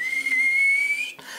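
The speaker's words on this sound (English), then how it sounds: "a kettle begins to whistle a few moments later" A kettle whistles in a steady high, nearly unwavering tone that rises slightly and holds for about a second, then cuts off abruptly, leaving a faint hiss.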